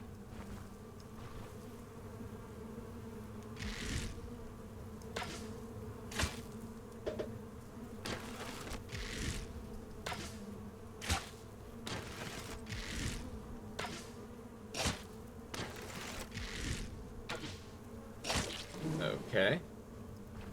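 Bees buzz steadily around hives in an orchard in the fantasy game Stoneshard, a continuous drone with repeated short clicks and thumps from gameplay layered over it.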